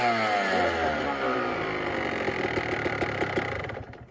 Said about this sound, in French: pour démarrer une cross assez proprement